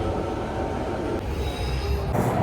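A London Underground Central line train rolls toward Stratford, a steady close rumble of wheels and carriage with faint squeals and hiss rising through the ride, no talk.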